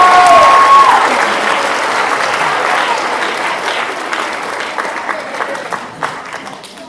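Audience applause for a student award recipient at a 6th grade recognition ceremony, a sustained burst of clapping from a room full of people that starts loud and thins gradually toward scattered claps.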